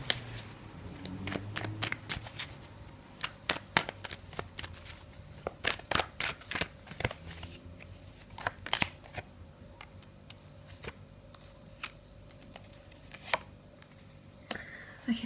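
Tarot cards shuffled by hand for a daily reading, a long run of crisp riffling flicks and papery slaps at an uneven rhythm, close and fairly quiet with no talk.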